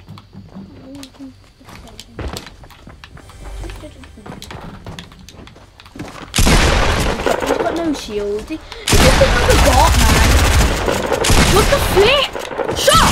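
Dense bursts of rapid gunfire and explosions from a Fortnite match, loud and continuous through the second half, under excited shouting from players, with sparser shots and game noises earlier.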